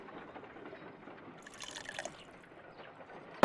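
Water poured into a mold in the Sherlock Holmes: Crimes and Punishments video game, a soft continuous trickle and splash that swells briefly in the middle of the pour before settling back to a gentle flow.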